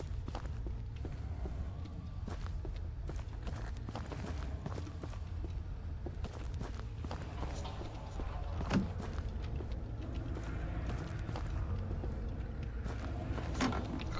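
Footsteps in the horror game Labyrinth of the Demon King, walking through a bathhouse, a quick, continuous patter of steps over a dense, murky ambient bed.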